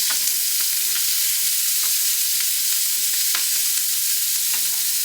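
Vegetables cook in real butter in a stir-fry pan, giving off a steady, even sizzle with occasional soft clicks of stirring, close and unbroken throughout.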